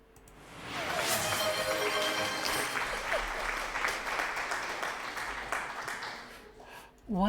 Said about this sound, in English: Why the applause?